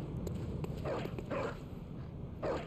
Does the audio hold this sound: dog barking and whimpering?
yes